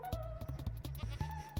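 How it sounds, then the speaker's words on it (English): Goat bleating in a survival video game, a few short nasal bleats and cries in rapid succession, close and fairly loud over a low game backdrop. "I just really want to have just a screaming goat behind a wall or something."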